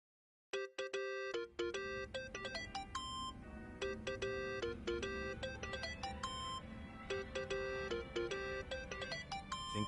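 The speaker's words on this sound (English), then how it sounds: "Think that's your phone, man." A mobile phone ringtone rings in Yakuza: Like a Dragon, a bright, chiming electronic melody of rapid repeating notes that starts abruptly and plays continuously and loudly.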